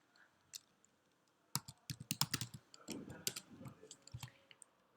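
Computer keyboard typing while working in Adobe Illustrator: after a quiet start, rapid bursts of crisp keystrokes and clicks come close and clear, in uneven clusters.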